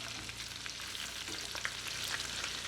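Shrimp sizzle in butter in a pan as they are flipped during a scampi cook, a busy crackling fry with scattered spits and pops, close up and steady, with no talking.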